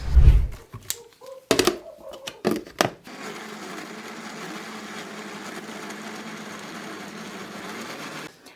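Lemons and sugar whir in a blender: a few short bumps and pulses at first, then a steady, loud, continuous grinding motor drone for several seconds that cuts off abruptly.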